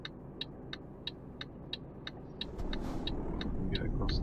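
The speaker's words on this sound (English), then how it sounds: "There's a few cars coming" Cars pass on a road in Euro Truck Simulator 2, their engine rumble swelling midway and staying loud, while a steady indicator clicks in an even rhythm throughout.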